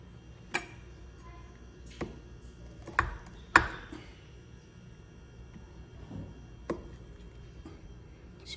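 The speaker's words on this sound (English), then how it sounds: "Go through this peel and chop it up so it ends up like this" A knife chops orange peel for marmalade on a cutting board, with sparse sharp knocks at irregular intervals over a quiet background and no talking.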